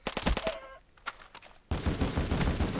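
Rapid bursts of MP5 submachine gun fire in modded Minecraft, a volley of loud close shots in the first half-second, scattered reports, then a dense sustained roar of fire to the end.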